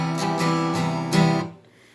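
Acoustic guitar strumming a simplified two-finger chord, fingers on the 3rd fret A string and 2nd fret D string, several quick strokes ringing together for about a second and a half before fading.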